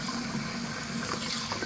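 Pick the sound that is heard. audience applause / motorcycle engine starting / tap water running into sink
tap water running into sink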